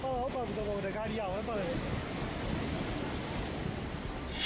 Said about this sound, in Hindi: पार्किंग में खड़ी गाड़ियां पानी के तेज बहाव में बहने लगी